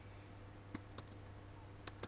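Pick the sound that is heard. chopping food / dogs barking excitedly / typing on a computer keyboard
typing on a computer keyboard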